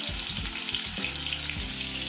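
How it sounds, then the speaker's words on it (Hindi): Stuffed parwal (pointed gourd) frying in hot oil in a pan, a steady close sizzle with a few low bumps and clatters as the pieces settle, no voices. "अब ई परवल के फ्राई करे के लेल एकटा बर्तन में हम तेल राख लेने छलो हां"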